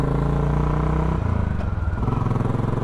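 A 2012 Royal Enfield Classic 500 single-cylinder motorcycle engine idling close by, a steady low thumping pulse that shifts pitch slightly midway, loud and continuous with no talk.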